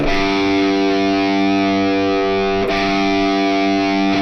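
Distorted electric guitar sounding its open A string tuned down a whole step, one sustained heavy note ringing for about four seconds and briefly re-struck near the end, loud and close.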